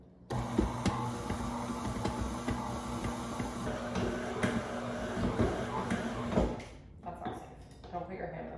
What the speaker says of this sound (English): Don't put your hand on the moving mixer.